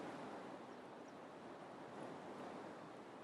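Rising Ganges river water washes against the bank in a steady, continuous rush, soft and even with no breaks or voices.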